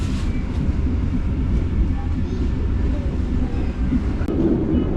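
A train running on railway track toward Simpang Haru station in Padang, with a loud, steady rumble and rolling noise from inside the carriage and faint rhythmic clatter throughout.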